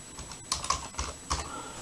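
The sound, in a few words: typing text on a computer keyboard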